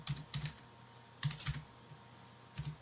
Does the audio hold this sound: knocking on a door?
no